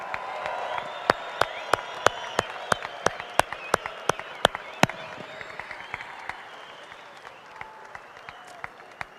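A crowd at the opening ceremonies of the 2014 AMA Pro Flat Track Finals applauds and cheers for the military, a dense roar of clapping with sharp close claps standing out, fading toward the end.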